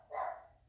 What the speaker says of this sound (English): sounds like a more determined bark.